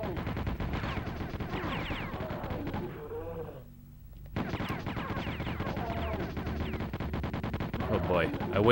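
Rapid weapon fire in Hexen on the Nintendo 64 crackles in dense bursts, breaks off briefly into near silence, then resumes, with a voice talking over the shots.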